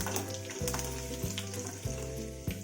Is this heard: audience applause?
no